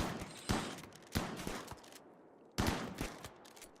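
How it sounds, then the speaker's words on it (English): Rimworld video game gunfire aimed at a beaver comes in three sharp rattling volleys, each a burst of rapid shots with a trailing decay, fairly close and evenly spaced. "Min, you can fire at this beaver. Perch, you can fire at the same beaver."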